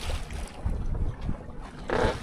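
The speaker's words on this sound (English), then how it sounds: "I'm going to just jib sail, turn the engine off, and enjoy Sarasota Bay." A sailboat moves under jib sail alone with the engine off on Sarasota Bay at about 3 knots, giving steady wind and water rush with gusts buffeting the microphone and no voices.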